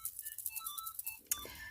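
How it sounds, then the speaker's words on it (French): A telephone rings indoors as a string of short electronic tones repeating in a quick melodic pattern, fairly faint, with a brief clatter near the end. "Excusez-moi pour le téléphone, et il va continuer de sonner"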